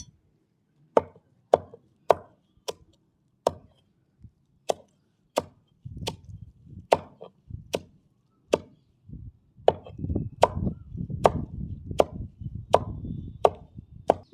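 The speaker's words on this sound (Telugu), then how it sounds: "దీన్ని చిన్న చిన్న ముక్కలు కట్ చేయాలి" A knife chops leaves, roots and stems of a herb into small pieces on a board, giving a long series of sharp, close thuds, slow and spaced at first, then quicker and denser with a rustling of the cut greens between strokes.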